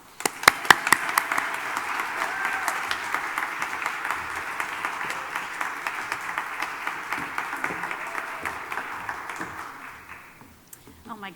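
An audience at the opening remarks of a Shakespeare and race conference applauds: dense, sustained clapping from a crowd, beginning with a few sharp claps and tapering off after about ten seconds.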